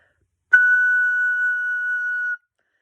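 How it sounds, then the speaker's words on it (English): A high F sharp on a soprano recorder is held as one clear, steady note for about two seconds, played alone and close, with a soft attack and a clean stop. "And so to play that high F sharp"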